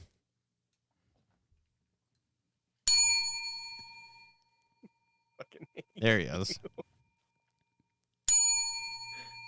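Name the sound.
wrestling ring bell ringing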